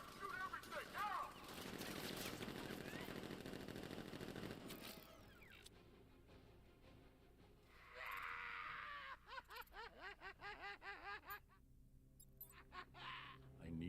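Gunfire in a Batman video game, dense bursts of automatic shots and blasts crowding the first few seconds, then a quieter stretch followed by rapid clusters of sharp reports, with a voice briefly heard among the action.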